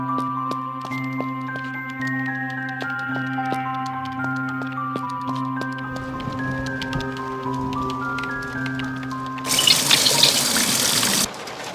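Tap filling a watering can in the Coraline Wii game: a few seconds of trickling water under soft game music chimes, then a loud rushing burst of running water that cuts off near the end.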